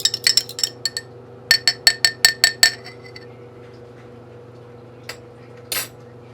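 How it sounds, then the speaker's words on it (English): An egg is cracked against a glass cup: a quick run of bright, sharp clinks, a pause, then another burst of six or seven taps, followed by a couple of softer knocks, all close and clear over faint background hum. "I'm gonna crack one egg."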